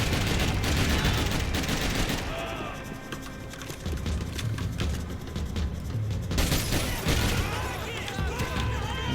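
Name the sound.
assault rifle gunfire in Max Payne 3 video game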